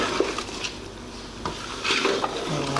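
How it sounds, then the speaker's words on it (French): Vegetables and meat are stirred together in a pan, giving soft scraping and clinking strokes over a low sizzle, close by. "je mélange mes légumes avec ma viande"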